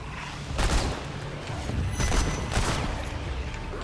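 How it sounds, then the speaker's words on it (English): Burst-fire gunshots from a weapon in the co-op shooter Remnant 2, several loud broadband bursts in quick succession over a dense rumbling game background, with no talk. "Get hit with that burst fire"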